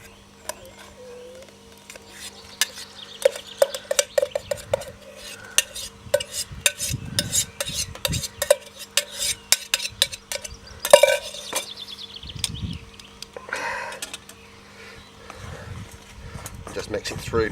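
Buckwheat porridge being stirred in a hot pan gives rapid, repeated scraping and clinking of a utensil against metal, close and fairly loud, while someone talks at intervals.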